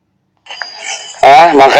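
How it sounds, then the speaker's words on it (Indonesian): A bell rung by someone passing by gives a brief, clear ringing tone, close and moderately loud, before a loud voice abruptly cuts in over it. "Ada yang lewat bel."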